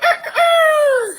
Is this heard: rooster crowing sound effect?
yes